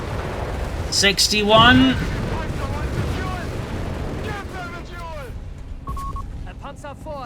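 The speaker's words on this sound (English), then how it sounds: "Flammenpanzer driving forward, straight into enemy tank fire here." In Company of Heroes 3, tank guns fire and a loud explosive burst erupts near the start, then fades into lower rumbles while a commentator talks throughout.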